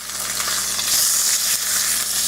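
A ribeye steak sears in a cast iron pan, giving a steady, close, crackling sizzle with bright hiss and occasional pops, continuous and without talk.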